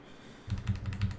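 Quick burst of typing on a computer keyboard, a handful of close, crisp key clicks in rapid rhythm over a quiet room.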